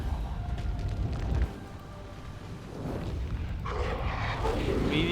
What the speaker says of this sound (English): nice shot there from the fire prism